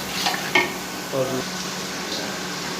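Cut potatoes stirred in a pot over a low flame for akhni beef pulao, with a soft steady sizzle, a few scraping clicks of the spoon and a brief murmur of voice partway through.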